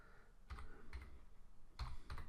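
Keys clatter on a computer keyboard in a few short bursts of typing, close by and fairly faint, with brief pauses between the clusters of keystrokes.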